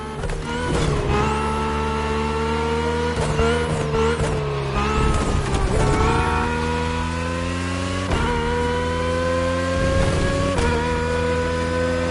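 Race cars in The Crew Motorfest video game roar past the marina toward the Manalua Lighthouse, a loud continuous engine drone with rising revs, gear shifts and whooshing passes of other cars, without talking.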